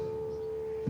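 A bass guitar harmonic sounding an A note, played in a major pentatonic line, rings as a single steady sustained tone on its own, with a soft pluck near the end.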